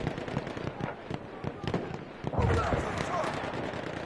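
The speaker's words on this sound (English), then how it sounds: "Flash flare." A flash flare goes off in an online World War II shooter, a sharp burst of crackling pops and bangs amid steady battle noise, with players talking over the game.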